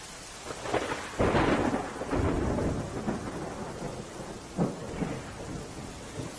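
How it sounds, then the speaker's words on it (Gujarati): Heavy, steady downpour in Umarpada, Surat district, with rumbles of thunder rolling through the wash of rain, loud and close and continuing throughout with no voices. "ક્યાંક ધીમી ધારે હળવો વરસાદ વરસી રહ્યો છે"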